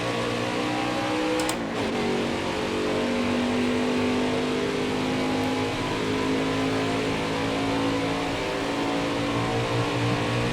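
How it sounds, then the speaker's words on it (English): A NASCAR race car engine in the video game Nascar Heat 5 holds a loud, steady high-revving drone throughout, with the pitch shifting slightly as the car runs the Chevy 250 playoff race. "don't want to over-rev the engine"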